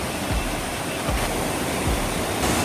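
A swollen mountain river rushes through a steep forested gorge in the hills, a loud, dense, continuous roar of churning water, close and steady throughout.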